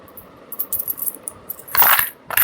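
Coins clatter and jingle as two-rupee and one-rupee pieces are dropped into a container, with scattered light clinks building to a denser burst of rattling near the end, close and fairly loud with no talking.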